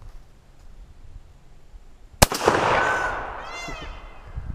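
A single shot from an old Stevens single-shot .410 shotgun, one sharp loud crack after quiet, followed by a ringing outdoor echo that fades over a couple of seconds.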